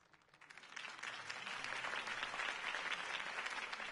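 Applause builds from a light patter into steady, dense clapping from a crowd, continuing evenly to the end.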